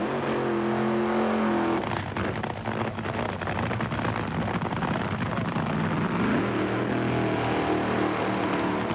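Nitro drag racing at the 1995 NHRA US Nationals, Indianapolis Raceway Park: Larry Dixon's Miller Genuine Draft car against Bob Vandergriff Jr., a loud, continuous engine roar with a sustained rumbling howl that never lets up.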